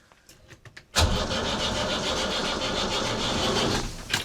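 A boat's motor being cranked over by the starter with a cracked injector line, a sudden loud, steady churning that begins abruptly after a second of quiet clicks and runs on without catching.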